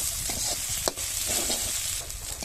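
Fried fish jhuri is stirred with lemon leaves in a pan, giving a short burst of continuous close sizzling with soft spatula scrapes and one sharp tap.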